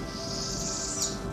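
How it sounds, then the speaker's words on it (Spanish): Goldfinches sing cheerfully in a flowery spring countryside, with bright high chirps and trills over a steady outdoor ambience, close and continuous without pause. "unos jilgueros cantaban alegres a nuestro alrededor"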